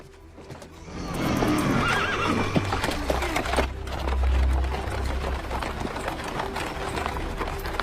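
Cart-pulling horses whinny loudly while hooves clip-clop in an irregular rhythm nearby, the neighing rising over a busy background of movement and clatter.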